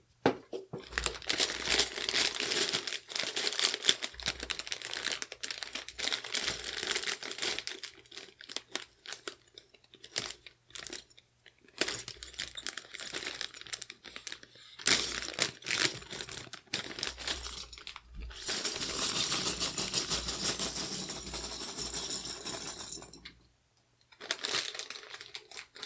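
Plastic bag crinkling and rustling as HK Gaming pudding keycaps are handled beside a Ducky One 2 full-size keyboard, close and continuous in long bursts with brief pauses and a quiet gap near the end.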